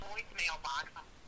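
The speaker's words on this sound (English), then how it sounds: "We're just dialing the phone now." A phone being dialed into a live NFL sports talk show, giving short bursts of electronic tones in quick succession, close and clear, with talk running alongside.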